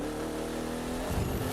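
A Chevrolet Corvette C3 in the racing game The Crew 2 revs its engine while downshifting into a turn, a steady loud engine tone that rises into a throatier burst near the end.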